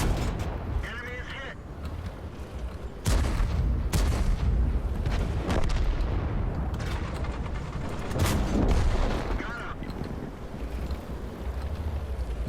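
Tank cannon fire in a World of Tanks-style battle, with loud booming shots and impacts over a constant engine and wind rumble, and a player talking throughout.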